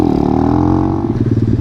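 An Apollo RFZ 125cc four-stroke motorcycle revs loud and close, its engine note climbing with a rattling, pulsing clatter toward the end.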